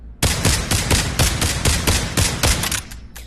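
Gunshots fired in the VR shooter game Pavlov, about a dozen sharp, loud, evenly spaced shots in quick succession, close and alone with no talk.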